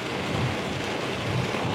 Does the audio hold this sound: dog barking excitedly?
no